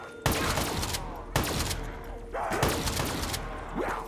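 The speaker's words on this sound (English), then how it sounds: "I fucking love the KRM. Best shotgun in any game that I've ever had." Bursts of KRM shotgun fire in a video game: four loud, sharp blasts spaced roughly a second apart, each trailing off, with other gunfire and game noise in between.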